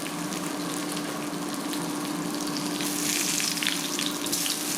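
Provoleta cheese sizzles in a hot pan as it is flipped, a steady hissing fry that grows louder and brighter toward the end, with no voices.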